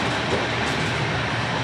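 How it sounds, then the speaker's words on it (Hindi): A Rajdhani Express train in India heard as a dense, unbroken rumble of wheels and carriage noise, close and steady without pauses or voices. "रुक गई फाइनली ट्रेन"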